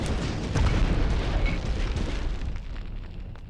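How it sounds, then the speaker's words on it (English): A missile explodes in a video game, a loud broadband roar that swells and rolls on for several seconds before slowly fading, with no talk over it. "Oh, the missile!"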